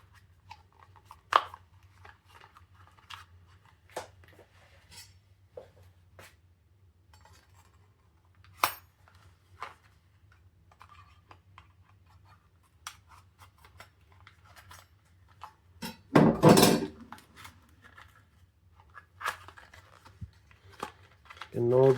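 The box and packaging of a cell phone microphone being opened by hand: scattered sharp clicks, crinkles and light scrapes at close range, with a louder burst of tearing or rustling near the end.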